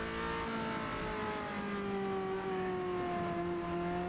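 A classic Ferrari F355's engine drones in the Assetto Corsa racing game, a steady, continuous note with a slowly rising and falling pitch as it holds and builds revs, with no voices over it.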